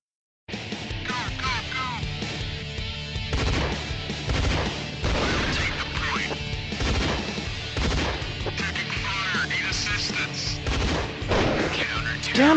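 Constant gunfire and crashing impacts from an online multiplayer shooter video game fill the whole stretch, loud and dense, with overlapping bursts, bangs and chaotic effects sounding continuously.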